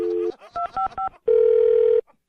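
Phone tones play after a call is hung up: a short beep, a quick run of three or four dialing-style tones, then a steady loud dial tone lasting under a second.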